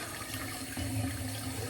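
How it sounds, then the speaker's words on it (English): Sink tap running steadily in a bathroom during a straight razor shave, a broad, even rush of water close by with a brief swell near the middle, no voices. "Now I'm just running some water."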